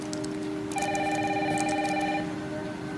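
A telephone rings indoors with a steady electronic trill that holds for over a second, set against the constant hiss of heavy rain outside.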